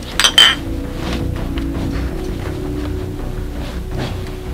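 Glasses clink together twice at the start of a drinking toast among friends, bright and close, followed by a low steady background murmur.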